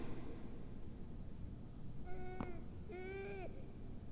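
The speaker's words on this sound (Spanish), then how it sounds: "El llanto de un bebé." An infant cries in two short wailing bursts, faint and distant against a low background hum, with no one speaking.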